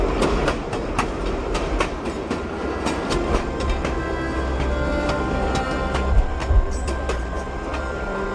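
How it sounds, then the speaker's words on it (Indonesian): A passenger train rolls along the rails with a steady rumble and repeated clickety-clack beats, loud and close, with no talking. "Shahida pun akhirnya tertinggal oleh kereta yang membawanya untuk pulang ke Pakistan"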